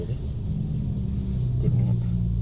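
Morning traffic at a road intersection in Vientiane, Laos, heard as a steady low rumble of engines throughout, with no clear break.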